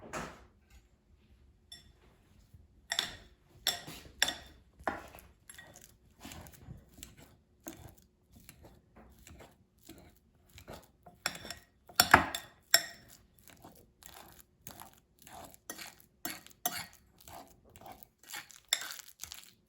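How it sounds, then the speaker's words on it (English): A fork mashes a banana in a bowl with repeated clinking and squishing taps, close and irregular, sometimes in quick clusters, with no voices. "let's start off by mashing a banana with a fork and a bowl"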